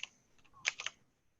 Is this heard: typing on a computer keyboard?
yes